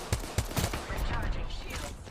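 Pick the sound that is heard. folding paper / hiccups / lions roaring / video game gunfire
video game gunfire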